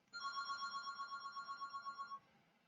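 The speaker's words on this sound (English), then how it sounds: "apologies for the phone in the background" A telephone rings in the background, a steady trilling electronic bell that repeats in quick pulses for about two seconds and then stops, moderately quiet with no talking.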